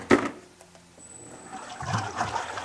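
Water rinses through an ice machine in a shaved-ice stand, starting with a short splash, then a faint trickle that builds into a steadier running flow.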